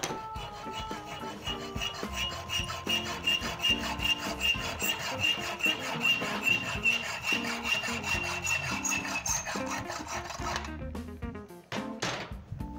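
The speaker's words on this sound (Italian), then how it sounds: "Poi mi prendo la misura per tagliare questa barra filettata," A threaded metal rod is sawn by hand with steady, rhythmic back-and-forth strokes, a close, rasping, slightly ringing grind that runs continuously and stops near the end, followed by a few faint knocks.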